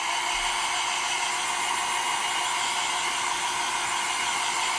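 Hair dryer blowing on chalk paint coating a kitchen knife holder, a loud, steady airy roar that runs unbroken from start to finish, close up with no voices.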